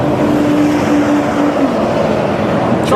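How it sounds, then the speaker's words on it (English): Loud roar of a passing truck engine, a broad, steady rumble that fills the whole stretch with no pause and no voices. "Someone tell that truck to be quiet."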